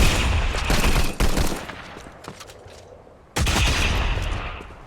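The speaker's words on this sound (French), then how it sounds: "je suis en train de me faire tirer dessus" Close gunfire in Fortnite on mobile: loud bursts of rapid shots, a quieter lull, then another heavy volley near the end.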